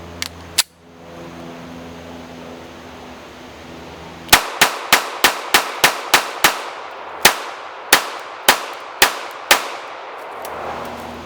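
Sharp, close pistol shots from a Springfield Armory Hellcat chambered in .380 ACP with a 13-round magazine: two early reports, then a quick string of about seven shots, followed by about five more spaced evenly, each ringing briefly.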